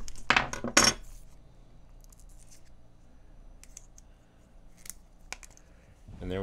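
A scored magnetic label strip is bent until it snaps, giving two sharp close cracks near the start and a few fainter clicks and taps afterward, with no talking.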